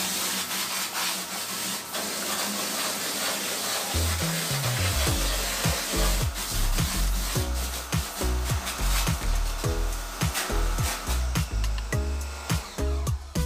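A sprayer washes ink off a screen-printing screen: a steady hiss for several seconds, then a run of repeated low thumps and splashes as the jet strikes the frame, moderately quiet overall.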